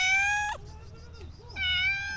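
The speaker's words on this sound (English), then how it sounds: "This is their precious cat." A docile pet cat on an island in Quezon Province gives two loud, close meows with a pause between them, separated by a brief quieter moment.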